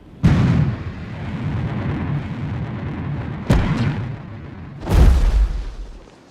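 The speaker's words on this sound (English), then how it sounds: "Expected retro rocket ignition on my mark." Retro rocket ignition on a Mars lander in a video game: a sharp booming burst opens, a rumbling roar carries on, a second blast strikes midway and a heavy low boom swells near the end, loud and close with no talk.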